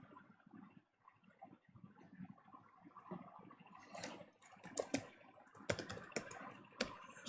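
Java web application code being typed on a computer keyboard, a run of quiet key clicks that grows into sharper, louder taps and clacks toward the end, close and alone with no voices.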